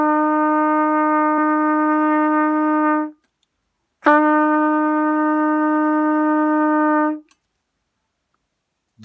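Trumpet playing the note E with the first and second valves held down: two steady, loud, close tones, the first about three seconds and the second slightly longer after a brief pause, with no voices.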